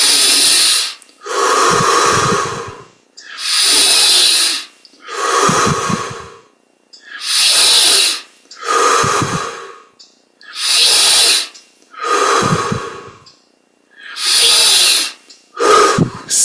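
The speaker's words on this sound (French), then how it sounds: "on respire plus profondément" Deep, forceful breaths during a guided yogic breathing exercise, about nine long breaths in a steady rhythm, each a loud, rushing inhale or exhale separated by brief silences, close to the microphone with no talking.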